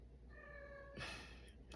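A cat meows once in a drawn-out tone, moderately near and fairly clear, followed by a quick rustle.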